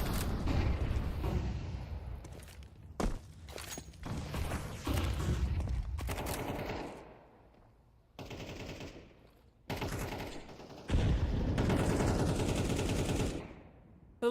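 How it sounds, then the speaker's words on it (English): Rapid automatic gunfire during a Counter-Strike match, loud bursts and sustained volleys broken by short gaps of near silence, with heavier thuds between the rattling shots. "There's a lot of bullets being fired."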